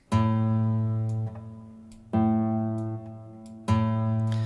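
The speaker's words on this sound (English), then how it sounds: "whereas a fretted A on the E string sounds like this." A single fretted A note on a guitar's E string is plucked three times, each one ringing clearly and fading slowly before the next pluck.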